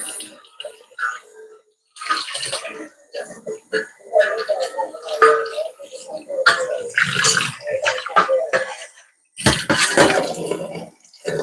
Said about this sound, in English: now we're about to drain our potatoes